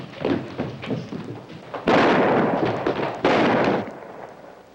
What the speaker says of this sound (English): Somebody shooting rats around the barn.